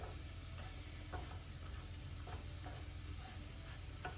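Bradj pastries of semolina and dates frying in a pan, a steady loud sizzle with occasional soft clicks as they are turned.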